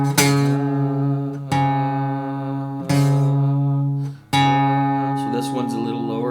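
Two guitar strings plucked together to compare pitch while tuning by ear, with the fifth-fret note ringing against the next open string; four sustained, overlapping strikes fade between each pluck.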